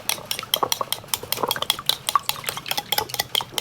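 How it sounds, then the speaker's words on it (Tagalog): A whisk or utensil beats a mixture with a few drops of liquid and a pinch of salt in a bowl, a quick steady run of close clinking strokes with no talking. "Batayin natin."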